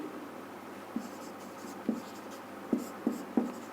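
Pen or pencil writing by hand on paper while working a Class 10 geometry problem, with a steady soft scratching and a few sharper taps of strokes and dots, close and fairly quiet, with no voice heard.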